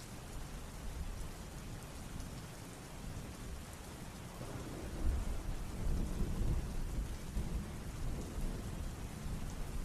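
Steady heavy rain hisses throughout while low thunder rumbles roll in, swelling about halfway and lingering as a deep continuous growl beneath the downpour.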